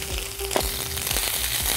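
Onion paste frying in hot oil with a pinch of salt, a close, steady sizzle with crackling pops and a few soft stirring knocks, with no voice.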